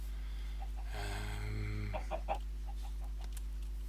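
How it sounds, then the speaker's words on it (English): A chicken in the video game Minecraft clucks in a few short, quiet bursts over a steady low hum of game sound. "Hello, chicken."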